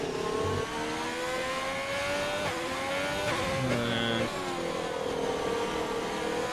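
Race car engine in an Xbox racing game at the Zandvoort circuit in the Netherlands, revving steadily with rising and falling pitch through gear changes and a corner, loud and close, with no talk.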